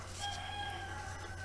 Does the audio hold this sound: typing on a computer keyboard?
no